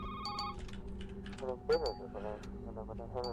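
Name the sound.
telephone ringing in a video game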